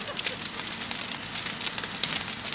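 A wooden chalet on fire, a dense steady crackling roar with scattered sharp pops, heard from fairly close with no voices over it.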